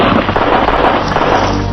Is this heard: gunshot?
yes